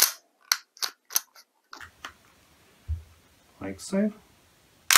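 A Tokyo Marui Desert Eagle .50AE airsoft pistol in ABS plastic gives a series of sharp, close mechanical clacks as its slide works and locks back, then a person speaks briefly.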